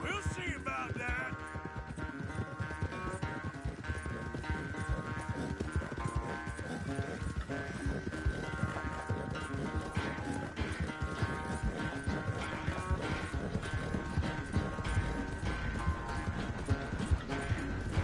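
Horse hooves galloping in Red Dead Redemption 2, a steady rapid clip-clop rhythm running throughout, close and continuous under game music and ambient sound.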